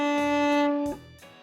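A violin sounds an open D string in one steady, sustained bowed note that fades out, with only faint room noise afterward and no one talking.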